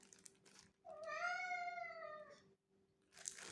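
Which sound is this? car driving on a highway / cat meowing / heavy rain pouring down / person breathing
cat meowing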